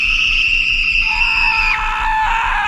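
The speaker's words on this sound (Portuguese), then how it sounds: "Então ouvi gritos" A sustained, piercing scream sound effect in a horror story, loud and close, one long wailing cry that bends downward near its end, alone without talk.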